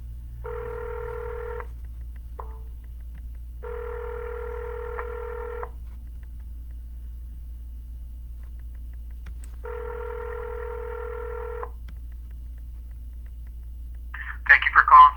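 Telephone ringback tone on an outgoing real estate cold call, three long two-second rings separated by silent gaps over a low steady hum, followed by a brief burst of a voice answering at the end.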